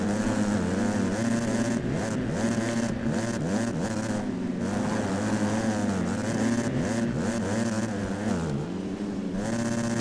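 250cc motocross bikes racing through a whoops section in a dirt track main event, several engines screaming at once with rapidly rising and falling revs, loud and continuous with no talking.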